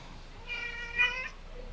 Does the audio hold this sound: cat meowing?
yes